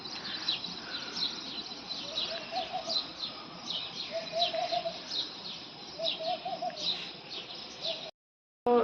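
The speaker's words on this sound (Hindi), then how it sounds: "मंदी मंदी सी आवाज़ आ रही है चिड़िया की" Faint bird calls drift in from outdoors in the early morning near trees at an ashram in Nagpur, with repeated chirps and short cooing notes over soft background hiss before a brief cutoff.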